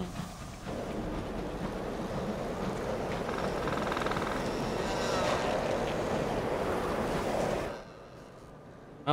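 Ship sailing against the wind in the Sunless Sea video game, a loud continuous rush of wind and water noise with engine rumble that holds steady for several seconds before abruptly dropping away.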